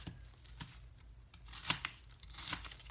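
Apples are cut inside a clean plastic bag, giving faint, scattered crinkles and crisp snips with a few sharper crackles, heard close and quiet.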